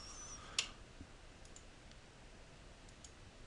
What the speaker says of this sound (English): Click.